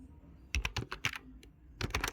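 Fingers typing on a computer keyboard while filling in an Excel spreadsheet: a quick cluster of close, clicky keystrokes, a short pause, then another brief burst of taps.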